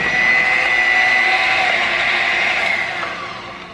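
An electric mixer whirs steadily, beating heavy cream and powdered sugar toward stiff peaks, its high buzzing whine loud and close before easing off slightly at the end.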